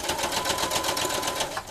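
A sewing machine stitches binding onto a quilt, running in a fast, steady rapid-fire chatter of needle strokes with a faint motor whine, stopping just before the end.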